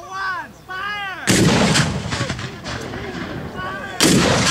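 Civil War artillery cannons fire at a reenactment, two loud booming blasts with long rumbling tails, preceded by shouted voices before the first shot.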